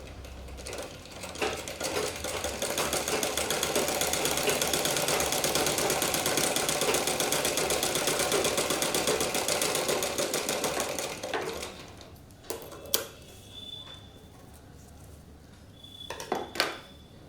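Sewing machine stitching a fancy decorative stitch on tulip blouse sleeves, running loud and continuous for about eleven seconds and then stopping, followed by a few clicks and mechanical clunks of the machine.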